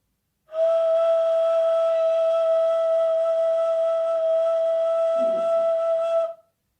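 A single sustained breathy ney flute tone on the note D (neva) held steadily for several seconds, clear and close, with a brief low puff partway through before stopping.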